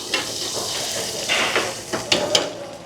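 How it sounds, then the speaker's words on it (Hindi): Onion frying in a pan for an organic red chilli dish at a chemical-free village restaurant, a steady close sizzle and hiss with a few soft stirring scrapes and utensil taps, no talking. "और इसके लिए हम डाल रहे हैं थोड़ा सा प्याज"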